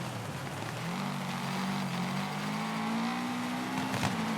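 Racing car engine in the offroad driving game Gravel, held in second gear, droning steadily and climbing slowly in pitch, loud and close and continuous, with a brief rough burst near the end.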